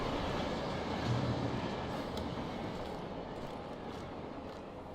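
A train passes in the video game Alan Wake as a loud, steady rumble that fills the whole clip, swelling slightly near the start and easing off toward the end, with no voices.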